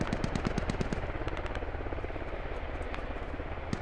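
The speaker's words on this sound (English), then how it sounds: "Enemy heli spotted." Enemy helicopter in a 100-player match on the Gorodok map, its rapid rotor thumping close and loud at first, mixed with bursts of gunfire, then fading to a lower rumble, no voices.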